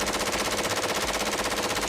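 Rapid gunfire rings out in a shooting attack as people step out of two cars. The automatic bursts are loud and tightly spaced in a continuous rattle, with no voices heard.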